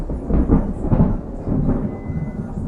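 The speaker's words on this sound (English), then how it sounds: "Yeah, that was a neat little crack of thunder." Low rumbling thunder from a storm, rolling and booming in a few swells over about three seconds, with no voices present.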